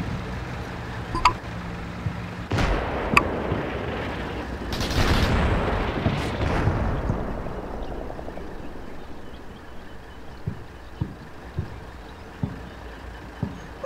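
Artillery rounds from a fire mission strike enemy trenches in the distance in the Combat Mission Shock Force video game, heard as a cluster of heavy booms and rumbling blasts early on, followed by scattered fainter gunshots.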